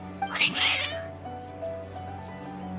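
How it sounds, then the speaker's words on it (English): Cats in the video game Genshin Impact let out a loud, drawn-out, agitated meow near the start, then a few faint chirps trail off over a steady low background hum. "Your cats seem pretty worked up."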